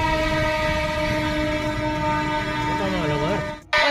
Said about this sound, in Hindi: इधर से ट्रेन की आवाज़ आने लगी